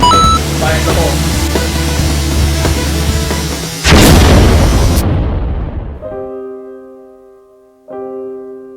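A loud boom bursts out after sustained rumbling in a WWII film, then decays into ringing tones; a voice is briefly heard near the start.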